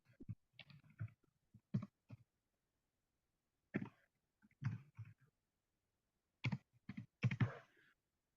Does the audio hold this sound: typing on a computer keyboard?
yes